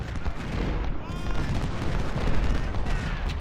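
Continuous rumbling artillery fire and gunfire in the Civil War strategy game Ultimate General: Civil War, loud, dense booms rolling over one another throughout.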